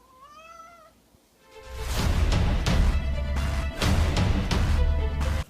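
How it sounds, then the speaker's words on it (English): Two house cats meow in a short run of rising and falling calls, fairly close and clear, before a sudden loud wash of noise swamps everything. "My cats are always like this, always without fail."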